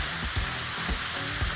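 Squid frying in a pan with spices, stirred with a utensil: steady loud sizzle with soft scraping strokes of stirring recurring in a loose rhythm, no voices.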